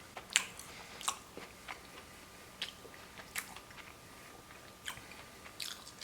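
Biting and chewing a sugary toffee-topped donut with a churro-like texture, close-up crunchy bites followed by soft intermittent chewing, with no talking.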